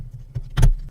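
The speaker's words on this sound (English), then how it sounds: "Then we'll snap it into the case." A DIY Bluetooth insulin pump snapped into its case, a brief faint handling rustle followed by one clear, close snap.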